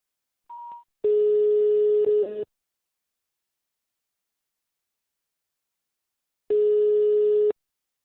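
A telephone line plays tones while a call is transferred to a police service centre: a short faint beep, then a steady electronic tone lasting about a second and a half, a long silence, and a second identical tone.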